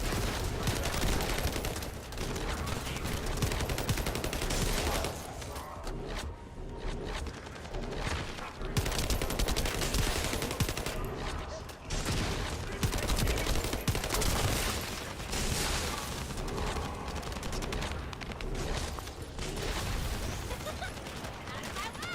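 Sustained automatic gunfire roars through a relentless firefight in The First Descendant, dense rapid shots with brief pauses, with voices talking over the battle.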